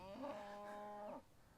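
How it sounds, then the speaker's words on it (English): Beef cattle on a farm give a single moo of about a second, clear and moderately near, with a quiet outdoor background. "that's beef cattle"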